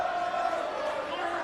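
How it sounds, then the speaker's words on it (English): At a TNA wrestling event, a crowd cheers Sharkboy in a steady, dense roar that fills the whole stretch, loud and continuous with no distinct voices standing out. "The crowd trying to cheer Sharkboy on somehow"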